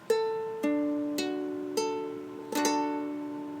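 A ukulele chord is plucked and strummed a few times, with the A string open, each stroke ringing out and slowly decaying, close and clear with no talking.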